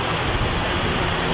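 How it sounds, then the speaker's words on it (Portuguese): A flooded river swollen more than three and a half metres above its normal level, rushing with a steady, loud, continuous roar of churning water and no pauses. "Em 2 horas, ele estava carregando milhões de litros de água excedente numa velocidade aterradora."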